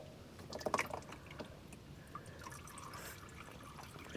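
Engine oil draining from a 2014 Nissan Frontier, a faint trickle and scattered drips with a brief splashier burst early on, no talk.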